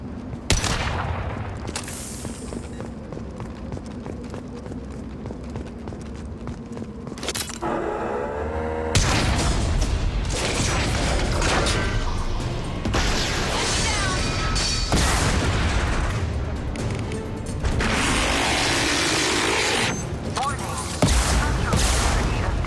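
Gunfire and explosions in the video game Mass Effect 2 as support struts are blown up, with loud repeated bursts and booms and dense action noise throughout.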